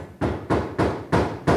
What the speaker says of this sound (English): it's hammer time here at Lab Rats, and we've kept a high-energy episode, and there's a guy on the roof